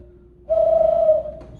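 A voice mimics an eagle owl's hoot, a single smooth, cooing tone held for under a second near the microphone, then tailing off softly.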